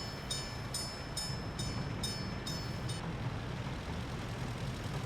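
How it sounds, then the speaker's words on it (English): A tram runs on rails in the Workers and Resources city-building game, a steady low rumbling roll with a series of evenly spaced metallic clicks early on, then continuing smoothly. "This is a nice little, trip down to the steel with the tram"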